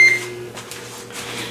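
A microwave oven is switched back on while a homemade taco pizza bakes. A short, high electronic beep comes first, followed by a steady low electrical hum close by.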